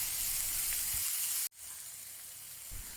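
Beef seasoned with fish sauce for Vietnamese bo kho sizzles loudly and steadily as it browns in a pan over medium-high heat, with a brief dropout midway before the dense frying hiss resumes.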